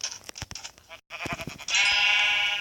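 Minecraft sheep bleating, one long wavering bleat rising near the end after a stretch of clicks and brief game sounds, close and fairly loud.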